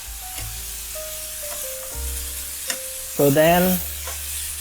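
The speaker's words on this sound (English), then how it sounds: "So this high heat searing will allow to seal in the juice." Meat searing on high heat in a pan, a continuous sizzle under tonal beeps and a short burst of speech near the end.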